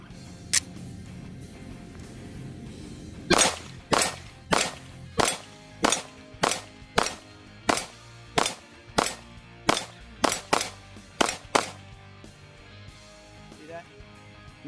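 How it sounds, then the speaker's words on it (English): A Glock 48 MOS pistol fitted with a Shield Arms premium magwell fires about fifteen sharp shots down range in a steady rhythm, each crack loud and distinct, following one early isolated shot. "let's put a couple more rounds down range so you guys can see how this looks"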